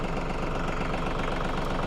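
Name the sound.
TYM 2515 tractor engine idling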